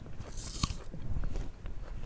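A crisp bite into a thin slice of juicy apple, one sharp crunch followed by brief quieter chewing, close and alone without talk.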